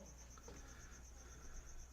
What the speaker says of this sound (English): we are outside and there are a ton of crickets